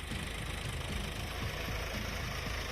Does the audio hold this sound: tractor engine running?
yes